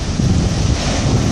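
Ocean waves and gusting wind buffet the microphone at a pier at Port Ouest, Réunion, at dusk: a loud, continuous rumbling wash with low surf noise and no voices.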